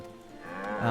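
A single cow lowing in the Farthest Frontier village-building game, a drawn-out moo that swells louder toward its end, heard alone without talk.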